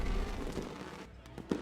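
Fireworks display celebrating a snowmobile race winner at the AMSOIL Duluth National, a dense continuous rumble of bursts and crackle that thins out near the end into a few separate sharp pops.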